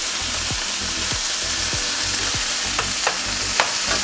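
Pork steak with tinned fruit fries in a pan, a loud continuous sizzle with repeated scraping stirs of a utensil against the pan.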